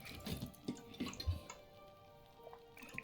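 Liquid pours out in the video game Book of Hours as a few soft, close trickling drips and splashes, followed by a faint, quiet tail.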